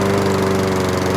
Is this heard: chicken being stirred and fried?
no